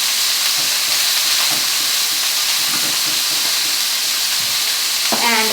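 Asparagus sizzles loudly and steadily in a hot pan, a dense continuous frying hiss, with a brief clatter near the end as the spears are flipped.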